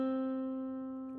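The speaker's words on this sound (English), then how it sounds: "we're going to be playing the note C" A single sustained guitar note, C on the B string, rings out clearly and slowly decays, alone with no other sounds.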